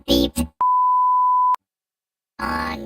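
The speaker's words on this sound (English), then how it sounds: "it was beeped" A single steady electronic censor tone of about one second masks a swear word on a live rant podcast, clean and loud, with talking just before and after it.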